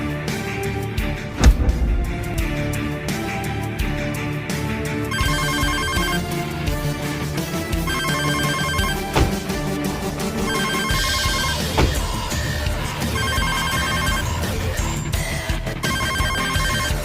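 A mobile phone ringtone plays loudly and continuously for a long stretch, a repeating melodic tune with steady pulses and no voices over it.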